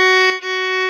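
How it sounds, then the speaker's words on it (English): A single bowed string note played as F sharp rather than F natural, a steady, bright tone that holds close and clear for under a second, with a slight break partway through and no speech. "If you play it as an F sharp, it sounds like this."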